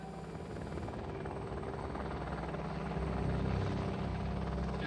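A French military helicopter in an assault carries a steady, dense rotor and engine roar. The noise stays fairly distant and continuous, with no voices.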